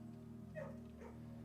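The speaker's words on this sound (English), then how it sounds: "Dog? Okay, you are the petting dog today." A dog in the video game Blue Prince gives two brief, soft whimpering yips, faint over a steady background hum of game music.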